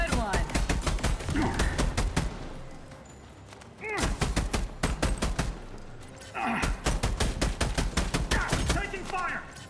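Sci-fi gunfire from The Expanse: Osiris Reborn, loud rapid bursts of automatic shots in several volleys with brief pauses, interspersed with game voices.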